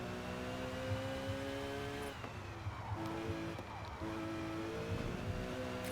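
Race car running a hot lap at Kyalami in Forza, multi-class league: a steady, loud engine drone with strong harmonics, dropping briefly around two gear shifts, with faint tyre scrub throughout.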